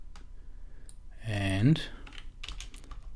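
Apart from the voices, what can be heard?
computer keyboard key presses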